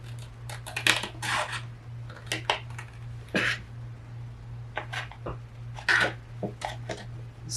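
Close, crisp snips and paper rustles as a small piece is trimmed off the center pocket of a Stamperia Garden of Promises flip book, in short irregular bursts over a steady low hum.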